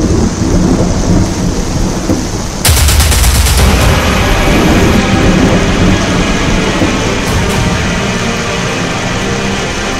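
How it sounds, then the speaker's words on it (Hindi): Heavy monsoon rain pours in a loud, dense, constant roar, and a sudden sharp crack of thunder bursts in a few seconds in, then rumbles on beneath the downpour. "आसमान से आफत की ऐसी बरसात हो रही है"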